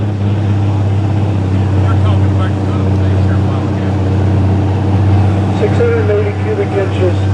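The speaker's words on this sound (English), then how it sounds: "680 cubic inches of John Deere engine." A 680 cubic inch John Deere tractor engine with a cast iron block and head, run dry without antifreeze at a night tractor pull, roars in a loud, steady, continuous drone heavy with low rumble.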